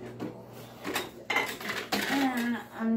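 Simmered bhang cannabis tea, cooked down with pods, astragalus and lemon balm, is strained from pots, giving scattered metallic clinks and scrapes of pot and utensils amid a voice talking nearby.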